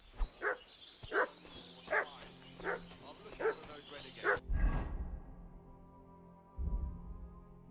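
Dog in the medieval game Kingdom Come Deliverance 2 barking repeatedly in a steady rhythm, about eight sharp barks at a distance, followed by a voice speaking.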